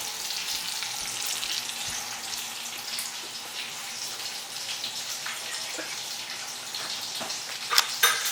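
Bacon frying in a pan for carbonara, a steady close sizzle with light crackles and a few louder spits toward the end.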